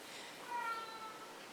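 A pet cat meowing indoors, giving one soft, faint mew over steady background hiss.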